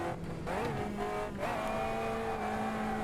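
A race car in the Automobilista 2 driving sim, its engine revving and sliding in pitch as the throttle is balanced, with tires squealing through the turns, a continuous close mechanical whine.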